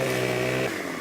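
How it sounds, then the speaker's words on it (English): A chainsaw in Farming Simulator 2015 runs loud and close with a buzzing, steady engine drone that dips slightly near the end of the short moment. "chainsaw blade at an angle"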